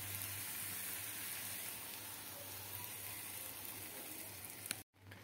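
Pancake batter poured slowly into melted butter in a pan for a caramel banana pancake, a steady close sizzle and frying crackle lasting several seconds before a brief dropout near the end.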